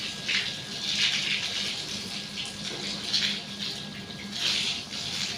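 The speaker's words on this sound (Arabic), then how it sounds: "شغلت الماطور وراح ابلش اغسل البيت" Water splashed across a house floor from a motor-driven supply while washing, heard as repeated gushing swishes in bursts over a steady running-water hiss, close by.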